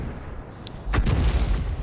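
A single heavy artillery shot from a small Bert tank destroyer booms in World of Tanks, landing near a tank as one loud thud with a rumbling tail over steady battle background noise.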